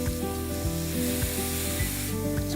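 Vegetables sauté in a pan with a little liquid, giving a loud, steady sizzle that fills the whole moment, with faint stirring noises underneath and no voices.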